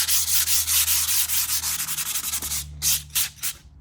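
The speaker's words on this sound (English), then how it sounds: "Sometimes I like to give it a little bit of a sand." A painted wooden craft piece is sanded by hand with quick, steady back-and-forth strokes, close and loud. The rasping keeps a continuous rhythm, then breaks into a few slower, separate strokes near the end.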